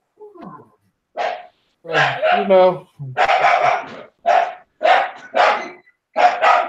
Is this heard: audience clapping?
no